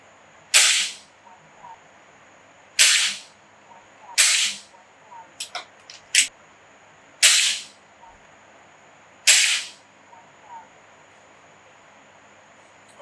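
An AEA Challenger Pro .30 caliber air rifle fires H&N slugs in a backyard, giving a series of sharp, loud cracks spaced a couple of seconds apart, with a few quieter clicks of handling between shots.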